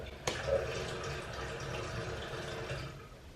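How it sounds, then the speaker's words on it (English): A household toilet flushes at a distance, a soft rushing swirl of water that starts after a sharp knock and stays faint and steady to the end. "That was the toilet."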